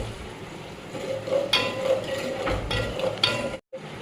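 Chicken curry stirs in a pot over a low sizzle of frying, with a spoon scraping and clinking against the pan several times, fairly close, before a brief cut to silence.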